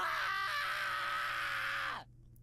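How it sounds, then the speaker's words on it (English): A loud, sustained scream in the video game Higurashi When They Cry - Hou, harsh and strained with a steady high pitch that sags and cuts off abruptly after about two seconds, then near silence. "Nice scream."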